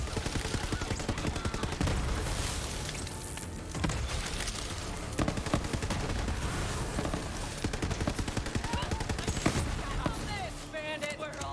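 Gunfire in the PC game Borderlands 3, playing as Zane: dense, rapid bursts of shots that keep going for several seconds, loud and close, with a few short gaps between volleys.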